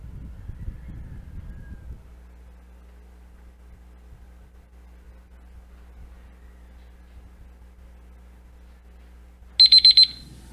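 Quiz countdown timer alarm going off at the end of a long quiet stretch, a short burst of rapid, shrill electronic beeps sounding clearly after low background hum.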